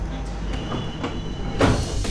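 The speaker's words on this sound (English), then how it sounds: "This is the ARV train we use as a prototype to test our supercab flash charging technology." A prototype ARV tram that runs on supercapacitor flash charging, with no overhead lines, rolls past as a steady rail rumble. A door-like clatter and a brief louder swell come near the end.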